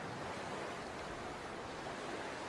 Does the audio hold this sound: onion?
no